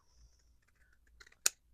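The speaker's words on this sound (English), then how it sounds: "I just use my scissors and just barely go along the edge with my scissors to cut it off" Scissors snip along the edge of a junk-mail envelope: soft rustling scrapes build to one sharp, close cutting click near the end, in a quiet room.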